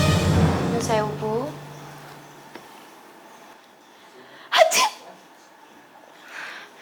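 A voice sounds briefly at the start, then a single sharp, close sneeze bursts out in a scene from an Indonesian TV drama, followed by a faint breathy sound.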